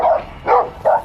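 Three sharp, loud dog barks come in quick succession close by, as loose dogs roam a residential neighborhood during a police response.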